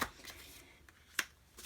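Large, thin oracle cards riffled and shuffled by hand in short, soft bursts, close and fairly quiet, with brief papery slaps between gaps.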